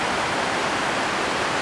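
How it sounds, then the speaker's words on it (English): Steady broadband roar of a waterfall in the North Cascades, heard from a distance below a mountain trail, constant and unbroken without voices. "So the waterfall down there."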